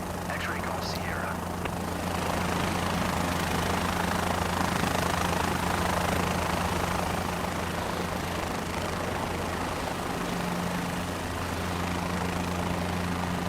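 Helicopter rotor and engine drone in Microsoft Flight Simulator 2024 as the aircraft takes off, a steady loud hum with a low tonal whine, heard under a voice.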